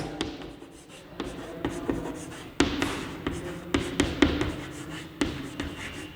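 Pen scratching across a paper page as an English lecture letter is written, with irregular strokes, taps and scrapes, close and fairly quiet, and no talking.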